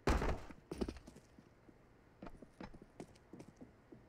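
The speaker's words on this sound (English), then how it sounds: "I can hear the footsteps." Player footsteps in CS:GO on the Vertigo map, a series of soft, irregular thuds and scuffs with clicks, moderately close and fairly faint, with no voices.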